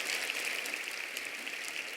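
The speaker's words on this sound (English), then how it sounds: "I knew you were going to get clapped for that" Audience applause at the Women In The World Summit 2019, a steady dense wash of clapping from a crowd that holds at an even level for the whole stretch without any voices over it.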